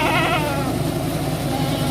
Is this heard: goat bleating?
yes